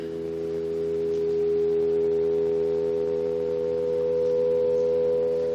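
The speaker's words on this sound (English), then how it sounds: "We're at the B flat now. You can hear how flat it is." A synthesized pure harmonic-series tone at B flat, sounding noticeably flat against equal temperament, held steady and alone for several seconds at moderate loudness.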